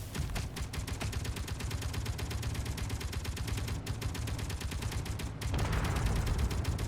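An autocannon firing in the video game Space Engineers, a rapid, steady stream of loud mechanical shots at a fast even rhythm, brief breaks before it resumes, close and continuous.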